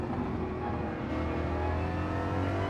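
Ford Mustang GR3 race car in Gran Turismo 7 at Dragon Trail, engine droning steadily and building as it accelerates downhill in second gear, a continuous loud buzzing tone alone throughout.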